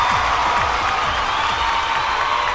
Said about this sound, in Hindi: जोरदार ताली बजाई जा।